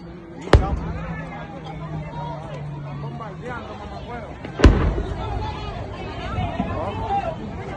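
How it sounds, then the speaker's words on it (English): Bombs striking a military base, two sharp, loud blasts a few seconds apart with crackling debris between, while excited voices shout and chatter throughout. "Están bombardeando la base"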